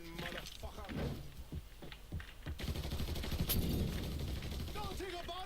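Bursts of gunfire ring out in the video game Mafia 3, sharp single shots and rapid volleys scattered over several seconds, with game noise and shouting voices mixed in.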